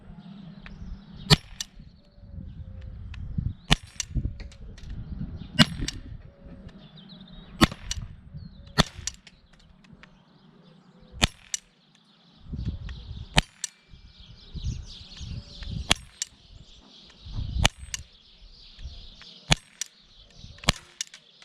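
Walther PPQ M2 CO2 pellet air pistol firing 4.5 mm pellets, about nine sharp, loud cracks spaced a second or two apart, with handling noise and faint rustle between shots.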